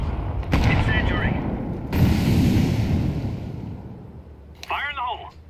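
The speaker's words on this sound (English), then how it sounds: "Throwing fire. Throwing fire. Throwing a grenade. Incendiary." Booming gunfire and explosive bursts in Counter-Strike 2 as an incendiary grenade is thrown, loud close blasts with a rumbling tail, a player's voice calling out over the action.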